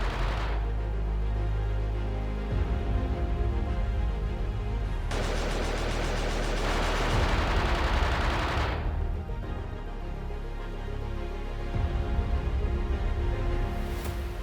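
Gunfire, mortar and artillery fire in the Battle of Marawi, with sustained bursts of rapid shooting and heavy booming blasts layered over a deep rumble, loud and continuous, no voices.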